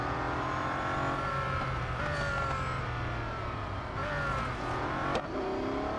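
A Bugatti Centodieci in Real Racing 3 drives at speed, its engine holding a loud, continuous, high-revving whine with rising gear sweeps and a brief sharp click near the end.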